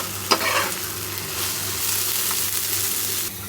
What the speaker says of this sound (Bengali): আমার বাড়িতে কলমি শাক সিদ্ধ ছিল, সেটা একটু বাগার দিয়ে নিলাম, বেশি করে আদা কুচি দিয়ে দিছি।